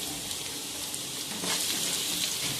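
Chopped carrots frying in hot oil in a pan, a steady crackling hiss with no voices, growing a little louder partway through.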